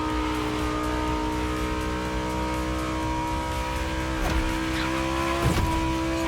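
Race car engine in The Crew Motorfest driving game, a sustained loud droning roar with steady tonal whine, shifting pitch briefly near the end with a couple of short bursts.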